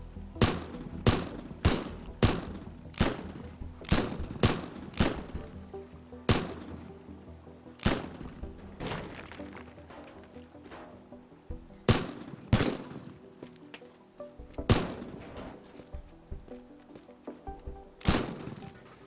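Gunshots from a weapon in the physics sandbox game Teardown ring out in sharp, loud single reports, a rapid run of about ten evenly spaced shots followed by sparser, irregular blasts with short echoing tails.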